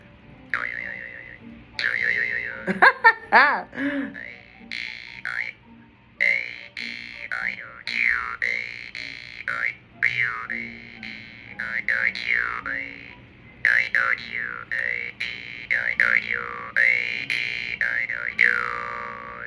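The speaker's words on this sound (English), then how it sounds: "A-E-I-O-U and the boing." Twanging jaw harp played in short bursts, its bright overtones sweeping up and down like shifting vowels, with a few boing-like accents.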